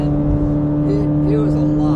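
A Chevrolet Corvette C8 Z06 with its stock exhaust runs at a steady, loud droning rumble close by, holding an even pitch for a couple of seconds.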